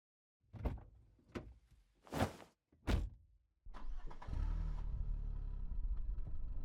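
A car door shuts with a few sharp thumps close by, then the engine starts and settles into a steady low idle rumble.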